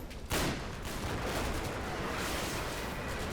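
Sniper gunfire in the World War II strategy game Combat Mission: Battle for Normandy: one abrupt shot that opens into a sustained, dense roar of battle noise at steady loudness.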